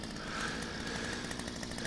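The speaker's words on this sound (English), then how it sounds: "I'll show you how chainsaw works." A chainsaw in the Lumberjack Simulator video game runs at a steady, buzzing drone that stays loud and unbroken throughout, with no voices.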